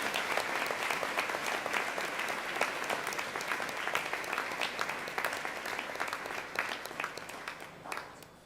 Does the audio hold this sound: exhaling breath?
no